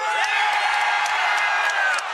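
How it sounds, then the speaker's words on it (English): A live audience at the MCSR Ranked Minecraft speedrun world championships cheers loudly and steadily for a player, with whoops and shouts mixed in throughout. "Give me a cheer if you think the Hacks is going to win."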